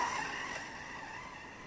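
A ZD Racing 9106 brushless RC truck runs through dry snow, its high electric motor whine steady and fairly close, fading slightly toward the end, with no one speaking.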